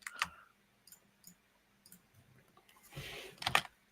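Scattered keyboard keystrokes click and tap in short irregular bursts, quiet and close, with a busier cluster of clicks near the end.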